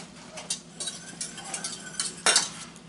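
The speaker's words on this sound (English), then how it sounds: "I like to whisk in a little bit of butter with that" A whisk works a small cube of butter into a thickened port wine sauce for herb-roasted pork loin, producing a few quick, close metallic scrapes and taps against the pan with soft sizzling underneath.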